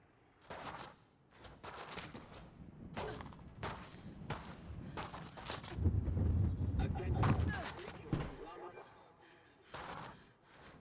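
Charge rifle fire in a video game shooter: sharp, repeated blasts and bursts spaced through the clip, with a player talking in between.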